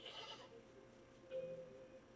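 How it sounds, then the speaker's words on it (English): An angry goat gives a single short, nasal bleat. It is faint and fairly distant over a low background hum. "So we'll end ours with an angry goat. Look at the angry goat."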